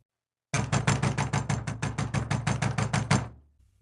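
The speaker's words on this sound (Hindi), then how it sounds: "तभी अचानक दरवाजे पर जोर से दस्तक हुई" Loud, rapid knocking on a door, about a dozen sharp evenly spaced raps hammered in a steady burst lasting nearly three seconds, then fading to silence.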